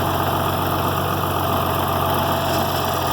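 Tractor engine idling steadily and close by while round hay bales are moved on a farm, a continuous low rumble with slight vibration and no talking.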